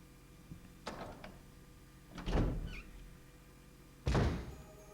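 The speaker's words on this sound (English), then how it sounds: "So now we will start opening the helmet doors." Heavy doors thud open in Resident Evil Remake, three separate bangs: a light knock near the start, then two deep booming thuds with short rumbling tails, spaced about two seconds apart, with no talking.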